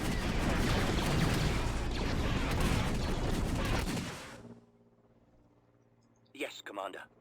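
An AA gun in a Star Wars strategy game fires a dense, continuous barrage of rapid booming shots, loud and steady, then cuts out, followed by a short burst of voice.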